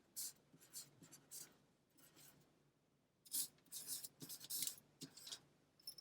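A pen scratches lines across aluminium foil in short strokes: scratchy, crinkly rasps close up, with a brief pause before a quicker run of strokes.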